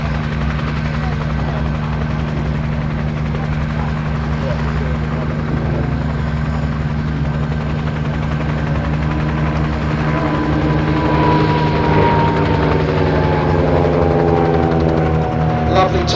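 Aircraft flying a display at the Little Gransden Airshow in 2019: a loud, steady engine drone with rising and falling tonal sweeps as it makes passes, while a commentator talks over it.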